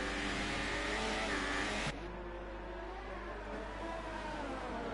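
Engine of an F2 race car on soft tyres in a racing video game, a loud sustained high-revving drone that drops abruptly in pitch and intensity partway through, then holds steady.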